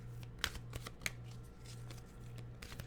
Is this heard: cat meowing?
no